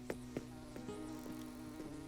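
A buzzing insect in Animal Crossing New Horizons drones steadily in the background, its tone holding through the moment, mixed with short repeating game chimes.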